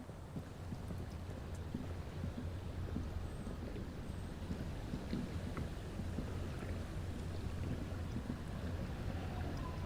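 A small skiff with a steering engine at the stern drifts on a calm sea in Disco Elysium, giving a steady low engine drone under soft wind and water wash, constant and fairly quiet throughout.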